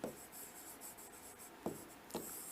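Writing on a board: a few short, scratchy strokes, close and distinct, separated by brief pauses, with no talking.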